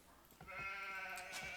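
A sheep in the Age of Empires video game lets out one sustained, nasal bleat close up, with a few soft game clicks around it and no talking.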